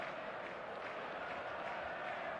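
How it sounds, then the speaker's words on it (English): A stadium crowd in eFootball 26 keeps up a steady, expectant buzz, a dense wash of many voices with no distinct cheers or claps, continuous and even throughout. "There's a real expectant buzz in the stadium, and the players on the pitch are raring to go any minute now."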